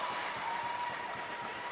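Home crowd at a Franklin high school varsity volleyball match against Andover rising to cheer, a steady loud roar of applause and shouting through the whole stretch with no letup.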